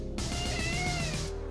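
A cat lets out one long, drawn-out meow close by, wavering in pitch over about a second.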